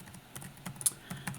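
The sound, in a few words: fast typing on a computer keyboard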